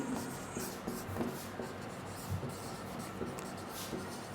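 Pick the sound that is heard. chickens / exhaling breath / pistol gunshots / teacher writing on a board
teacher writing on a board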